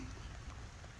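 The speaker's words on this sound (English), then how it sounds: "You don't have to stand in the rain as well, Doge." Steady rain falls outdoors, a dense, even hiss of drops hitting a surface with no breaks or clear single drops, fairly quiet and continuous throughout, with no voices.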